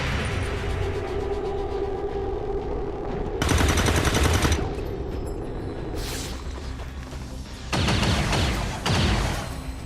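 Gunfire in the tactical game XCOM 2, sustained rattling automatic fire with heavier bursts of machine-gun shots flaring up in waves, loud and close over a constant battle din.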